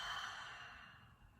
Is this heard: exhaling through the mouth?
yes